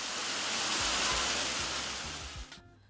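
Steady broadband roar of a waterfall on a Jamaican property, loud and continuous with a low rumble beneath, cutting off abruptly near the end.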